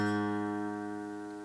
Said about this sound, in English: you need to tune your guitar down a half step so your A string will sound like this